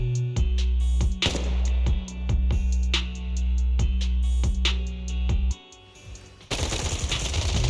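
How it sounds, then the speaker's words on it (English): Bursts of rapid gunfire in the video game Zenless Zone Zero crack repeatedly over a low rumbling backdrop, loud and close, then break off before another dense burst. "Gunfire? This pattern. Suppressive marching fire."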